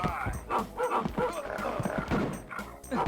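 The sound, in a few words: dog barking in dog mode, from video game Rise of the Triad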